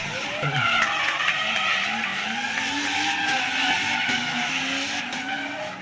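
Drift cars in a competition chase run skid and squeal their tyres around the track, engines roaring loud and continuous throughout, with wavering high-pitched tyre screech over the revving.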